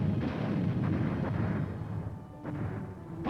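Tank gunfire booms out across a firing range during advanced target practice, a deep rumbling roar with sharp repeated reports that roll on for several seconds and then fade off.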